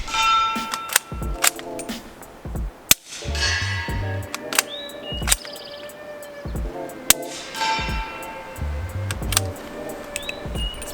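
Shots from a Q Mini Fix bolt-action rifle in 300 Blackout, sharp loud cracks spaced a few seconds apart outdoors, each with a short ringing tail, with metallic clinks and rattles between them.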